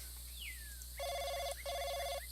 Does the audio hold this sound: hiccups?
no